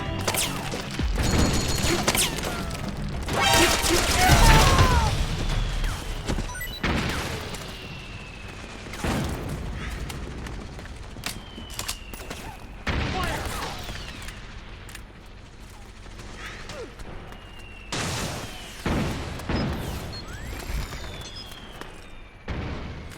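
Suppressing gunfire in Metal Gear Solid 4, with heavy bursts of automatic fire and explosive blasts that recur in uneven clusters over a steady din of battle, loudest early on.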